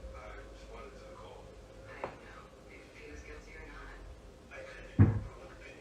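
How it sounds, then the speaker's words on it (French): Household drawers and cupboards bang shut in a house, with a soft knock and then a sharper thump under worried voices talking. "On peut voir plusieurs tiroirs et placards s'ouvrir et se refermer tout seuls"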